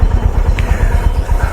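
A Honda CB350 motorcycle engine thumps in a loud, close, rhythmic low pulse at the start of a ride, steady throughout with no talk.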